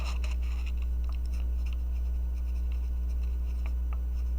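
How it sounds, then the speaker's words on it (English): A pen scratches across paper with soft, rapid strokes and small taps, close and continuous, sitting under a loud low electrical hum. "So let's write that again down here."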